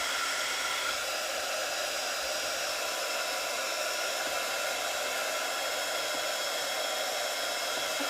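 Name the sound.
hair dryer drying a journal page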